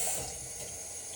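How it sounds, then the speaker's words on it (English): Water runs from a tap into emptied tomato sauce cans, a steady hiss of flowing liquid heard alone and close for about a second. "just a little bit of water to these tomato sauce cans after we dump it out"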